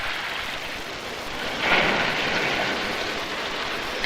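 A storm over an Arctic fjord at Pangnirtung, Canada, with a steady hiss of rain and wind, swelling briefly into a stronger gust midway before settling back to a constant wash.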